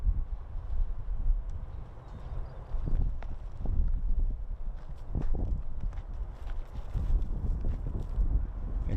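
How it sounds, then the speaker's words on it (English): Wind gusts across an outdoor disc golf course at a masters world championship, a steady low rumbling buffet against the microphone with scattered thumps and rustles, rising and falling in strength throughout. "wind is whipping here"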